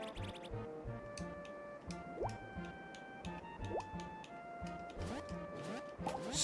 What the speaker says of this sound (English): Cerulean can create bounce bubbles by pressing the action button